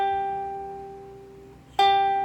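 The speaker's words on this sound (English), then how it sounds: "And then the top string is your G," A ukulele's top G string rings with a clear, sustained tone that slowly fades, then is plucked again near the end, sounding bright and close with no talking.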